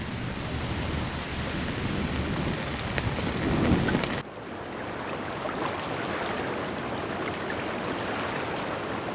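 A typhoon rainstorm lashes the sea with dense, steady hissing rain and low rumbling thunder; the roar shifts abruptly midway to a slightly quieter, thinner downpour.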